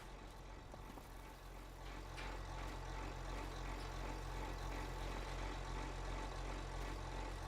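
Tractor engine in the farming video game Farming Simulator 25, a low steady idling rumble that stays faint and even, alone with no talk.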